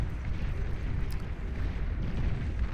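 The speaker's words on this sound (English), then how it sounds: "Mauser also shelling away off this cliffside down to the low ground here" Mauser artillery in the Beyond All Reason strategy game shells from a cliffside toward low ground, a dense, continuous rumble of booms and blasts rolling together at high volume with no voices.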